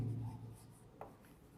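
Writing by hand during a class-11 maths lesson, a soft scratchy stroke that is faint and brief, with no talking.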